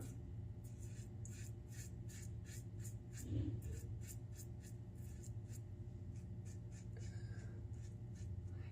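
Goodfellas Syntesi safety razor scraping against the grain of facial stubble in a rapid series of short, close strokes, each a crisp rasp over a low steady background hum.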